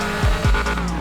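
Hellcat Charger tires spinning and squealing in GTA 5, two loud low revving surges with a screeching skid tone that fades into a steady engine drone.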